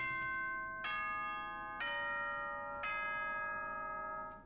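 Three bright, ringing electronic chime tones play in sequence, each decaying slowly, the school announcement signal from the Danganronpa game, with no talk over them.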